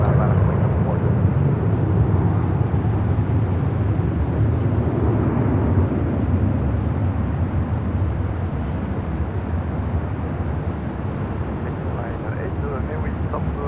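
Global 6000 business jet taking off from runway 24 left at Los Angeles airport, a steady broadband engine roar holding loud throughout with no clear rise or fade, a voice faintly present underneath.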